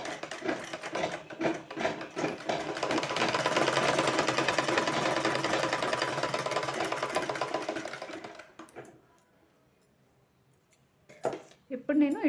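A tailor's sewing machine stitches folded cloth for piping, running in a steady rattling whir for about eight seconds before stopping, with someone talking over it and a few handling clicks after.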